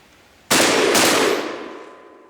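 A single sharp gunshot cracks out from an old gun fired with modern rounds, loud and close, followed by a second quick burst of blast noise and a long ringing decay that fades over about two seconds.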